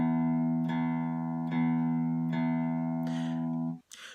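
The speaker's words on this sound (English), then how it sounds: "So if I take this low E string here, is I start picking it down and up." A low E string on a guitar is picked in a steady alternating down-up pattern, each sustained note restruck about every 0.8 seconds, close and clear with no talking.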